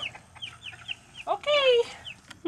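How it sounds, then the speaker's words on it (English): Little chickens on a homestead cluck in repeated short chirpy calls, with one louder burst of calls in the middle; the calls are fairly close and sound over quiet background noise. "it's a lot of little chickens. It's a little chicken army."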